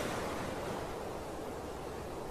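Ocean waves wash steadily at Hout Bay beach in Cape Town, South Africa, a constant soft broadband surf with no distinct breaks, heard alone at moderate distance.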